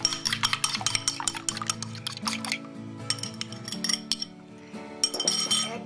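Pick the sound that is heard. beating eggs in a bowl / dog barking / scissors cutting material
beating eggs in a bowl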